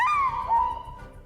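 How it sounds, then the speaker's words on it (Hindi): Kangluan, an immortal guardian bird, gives a single drawn-out hooting, whistle-like call that slides down in pitch and fades, loud and close, with no other sounds. "कांगलुआन एक अमर पक्षी है जो श्वानजी की रक्षा करता है।"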